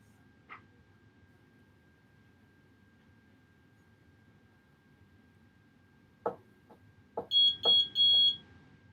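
A sublimation heat press sounds its finished alert: a few faint clicks, then a run of four loud, evenly spaced electronic beeps near the end over a low hum.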